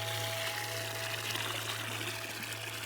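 In the video game Wanderstop, water runs steadily from a spigot, a continuous close pouring stream with no talk.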